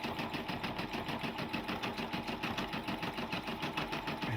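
A combo sewing and embroidery machine with a 4x4 hoop stitches continuously, giving a fast, even mechanical chatter of needle strokes at moderate loudness.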